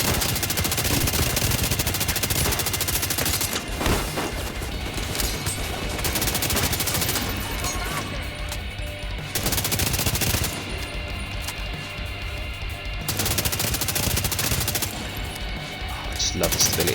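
Gunfire from a weapon in The Division 2 bursts out in long, dense automatic strings broken by short pauses, loud and up close, with a player talking over it in places.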